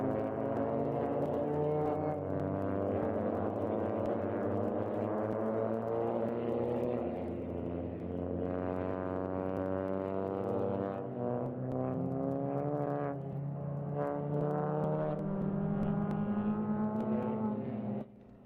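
Suzuki Swift Cup race cars rev and pull away at the start of race 1 at the Grobnik circuit. Multiple engines drone loudly together, with overlapping rising pitches as the field accelerates, before the sound cuts off abruptly.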